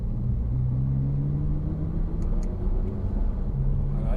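A car engine rumbles close by as the driver gently accelerates, a steady low drone with a rising tonal hum that holds and then returns, loud and continuous throughout.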